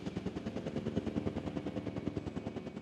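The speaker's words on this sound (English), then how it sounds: "Oh, we had to pull in the big chopper this time." A big chopper helicopter flies in the Jurassic World Evolution 2 video game. Its rotor gives a fast, steady, close whump that throbs evenly all through.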